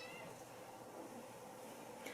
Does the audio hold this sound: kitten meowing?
yes